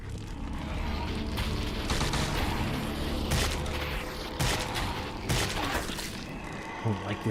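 The player's gun firing in a video game, a steady stream of loud, close shots with heavier booms and crashes mixed in, running nearly unbroken under a busy game soundscape.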